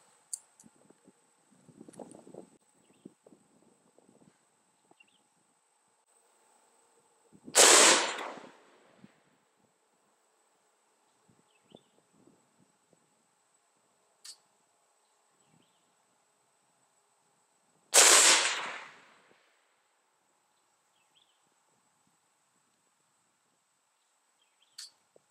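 A Head Down Products PV-13 AR-15 rifle loaded with 62-grain ammunition fires two sharp, loud shots about ten seconds apart at a target 100 yards downrange. Long quiet gaps with faint outdoor ambience separate the shots.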